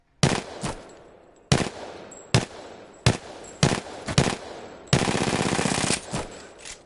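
Gunfire in a first-person shooter video game, a series of sharp shots and short automatic bursts with echoing tails, ending in a longer sustained burst of rapid fire.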